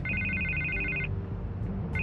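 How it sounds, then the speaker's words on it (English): A telephone rings in a Batman video game, a repeating electronic double-tone bell that sounds loud and steady for about a second, pauses, then starts again over low background rumble and music. "I can't get the phone to stop ringing."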